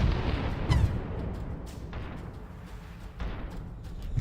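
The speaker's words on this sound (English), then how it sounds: "it's a missile." A missile strike in the space strategy game Distant Worlds 2 lands as a booming explosive burst, followed by a rumbling low roar and a second softer impact, loud and with no talk over it.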